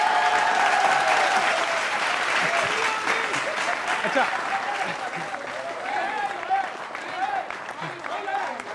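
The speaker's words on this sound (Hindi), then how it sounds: "अब तालियां उठाना।" Loud, sustained audience applause from a studio crowd during a Hindi political discussion show, dense clapping that swells and thins over several seconds, with a brief spoken word over it.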